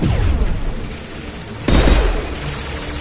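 Gunfire in the sci-fi shooter Mass Effect 2: a sustained, dense burst of shots and impacts that swells loudly partway through, with no talk over it.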